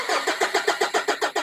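A car engine cranks in an automotive workshop during an electrical fault check, making about ten even, rapid starter pulses that never catch. The sound is loud and close, with no voices over it.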